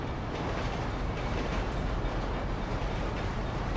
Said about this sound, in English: We got a train coming.